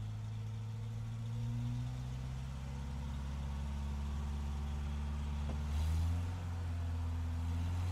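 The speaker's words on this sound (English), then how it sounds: "The car passed a large boulder." Steady car engine drone from the Raging Loop video game, a continuous low hum running the whole way with a slight swell and a brief rattle near the end.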